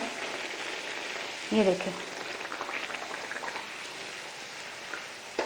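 Puris frying in hot oil in a wok send up a steady, dense sizzle and bubbling. A brief voice cuts in partway while the frying continues underneath.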